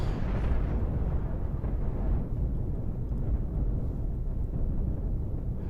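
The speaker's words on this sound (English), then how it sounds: "side weapons open fire on the Star Destroyer" Side weapons firing on a Star Destroyer in a Cosmoteer space battle, heard as a dense, continuous low rumble of explosive blasts and booms that stays loud and steady throughout.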